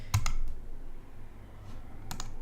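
Computer mouse clicks while working in a workflow application, a few sharp, close clicks in a quiet room: a quick pair at the start, a faint one shortly after, then another cluster near the end.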